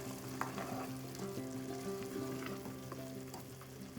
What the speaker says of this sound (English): Stirring the onions, cook for 3 to 5 minutes.